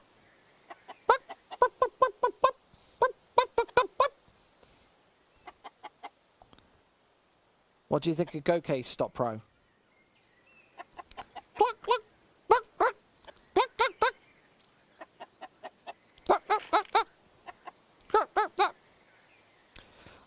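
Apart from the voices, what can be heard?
chicken clucking in the video game Counter-Strike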